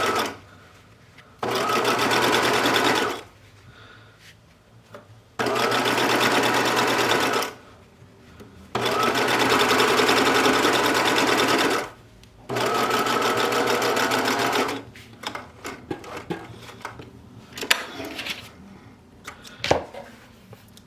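A sewing machine stitches binding onto a quilted coat in four long, loud bursts of rapid whirring with short pauses between them, then a stretch of quiet handling with scattered clicks and knocks.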